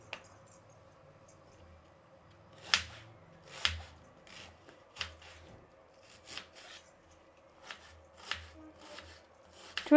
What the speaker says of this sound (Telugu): ఈ కుర్మాకి ఎర్రగడ్డ పొడి పొడిగా కట్ చేసుకుందామండి